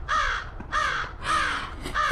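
A crow caws four times in a slow, regular series of harsh, drawn-out calls, clear and fairly close, with quiet gaps between them, in Chutes Provincial Park near Thunder Bay.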